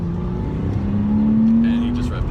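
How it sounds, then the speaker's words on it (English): A car engine revs up, a rising whine swelling over a steady idle rumble, close and fairly loud, with voices faint in the background. "And he just revved the engine."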